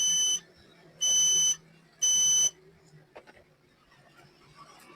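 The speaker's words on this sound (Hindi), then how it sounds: "अगर चाहिए तो बोल रहा है यहाँ से लाइट और एलईडी जो इसका बज रहा है, ग्लो कर रहा है, आवाज दे रहा है" A continuity tester gives three loud, steady electronic beeps at an even pace, each lasting about half a second, then falls quiet apart from faint handling clicks and low background noise.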